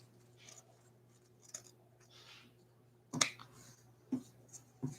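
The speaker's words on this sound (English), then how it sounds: "cut the ribbon even" Scissors snip through ribbon while a handmade bow is trimmed, giving a few short, crisp cuts spaced over several seconds against a low steady hum.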